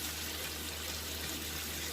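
Chicken stock concentrate stirred into two tablespoons of water, a steady, close watery swish running continuously with no pauses and no talking.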